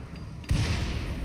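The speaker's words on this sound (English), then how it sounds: "Right as she was almost struck by lightning" A lightning strike in the colony sim game Rimworld lands as a sudden low thunderous boom rising out of steady background noise and rumbling on for nearly a second.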